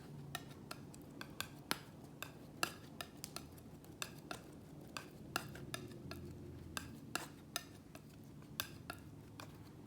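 A palette knife or brush mixes acrylic paint on a palette, giving a quiet, steady run of small taps and clicks in an uneven rhythm, close up and faint.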